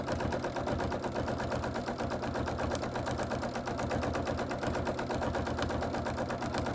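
A sewing machine quilting fabric, its needle stitching in a fast, even, continuous rhythm that runs without pause, close and steady, with no voices.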